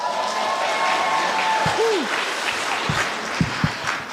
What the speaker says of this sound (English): Can y'all make some noise for yourselves, please?